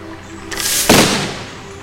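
A catapult in the video game Besiege fires, a loud, sharp burst of noise with a heavy impact-like crack that fades over about a second.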